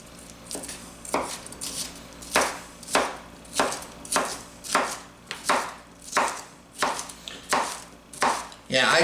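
A Nakano santoku knife chops through food on a cutting board in a steady run of about a dozen crisp, close, evenly spaced cuts, with no one talking.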